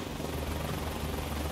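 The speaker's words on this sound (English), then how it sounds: "This little helicopter can actually do more than I thought it was going to be doing." A small helicopter in a video game flies aerobatic maneuvers, its rotor giving a steady, dense whirring drone that holds at an even, fairly loud level throughout, with no voices over it.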